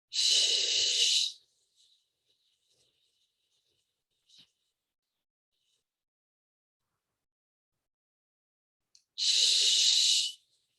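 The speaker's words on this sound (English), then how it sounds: "inhale through the nose and exhale out, making a sh sound" A steady, hissing 'shh' breath out during a guided stress-relief breathing exercise comes first, then a long quiet pause with a faint tap, then a second matching exhalation near the end, both close and clear.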